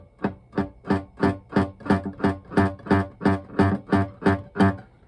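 A guitar note buzzes because the fret is not pressed hard enough, repeated about eleven times in a steady, even rhythm. Each pluck is close, clear and moderately loud, with no voice over it.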